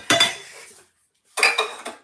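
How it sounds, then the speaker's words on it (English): Dishes being put away clatter and clink in two brief bursts, with a short quiet gap between them as plates and cutlery knock together up close. "I have dishes that I need to put away."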